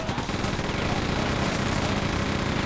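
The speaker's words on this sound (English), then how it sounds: "Now get your regular chain gun out." Rapid, continuous chain gun fire from Quake II (2023 remaster) in the Mines unit, a dense, loud stream of shots that holds steady and never pauses.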